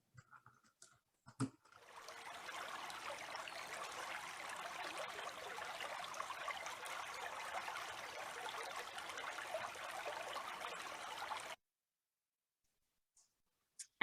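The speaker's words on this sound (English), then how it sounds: "You find a creek that the beaver has yet to dam" A creek runs steadily for about ten seconds, a soft continuous trickle and wash of water that starts abruptly after a few faint ticks and stops just as suddenly into silence.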